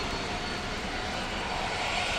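Airplane at Phoenix Sky Harbor International Airport, a loud, steady broadband engine roar that fills the whole clip with no pauses or voices.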